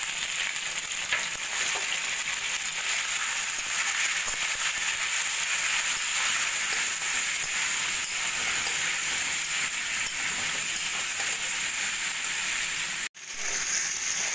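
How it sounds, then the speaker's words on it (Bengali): Pointed gourd pieces, seasoned with salt and turmeric, fry in hot oil in a wok with a loud, steady, close sizzle that runs continuously, broken by a brief drop near the end. "एबार आमि प्रथमे पटलगुलो भेजे नेब।"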